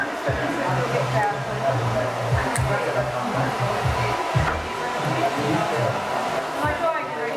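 A hair dryer blows steadily on a man's hair during a men's fade haircut, a constant close whooshing roar with voices talking underneath.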